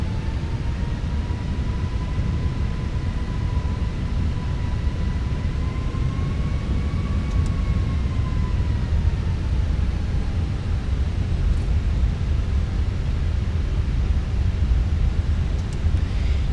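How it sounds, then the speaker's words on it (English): An airliner taxiing to runway 36 left at Madeira Airport, heard from inside as a steady loud engine rumble with a faint whining tone that slowly shifts pitch. "let's start our taxi to runway 36 left"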